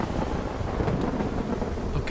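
Rolling thunder rumbles through a stormy sky in the sailing game WILL: Follow the Light, a loud, continuous low roar mixed with rain and wind hiss that swells slightly near the middle.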